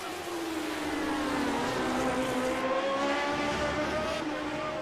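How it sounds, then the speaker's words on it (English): Lotus GP race cars in iRacing at Road America slide wide out of a corner, engines wailing in high sweeping pitch that falls and rises as they scrub through the turn, loud and continuous with no voices. "Both cars slide wide out of 4."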